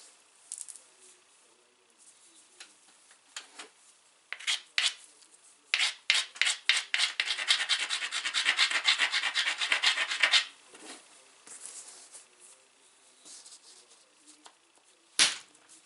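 A Kentucky hornstone flint knife preform has its edge ground with a rapid series of close, raspy rubbing strokes, building to a sustained burst of scraping before tapering into scattered quieter strokes.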